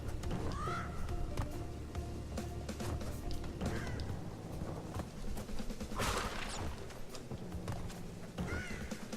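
Birds caw in short bursts over busy game music and effects in Crash Bandicoot N. Sane Trilogy, Crash 1.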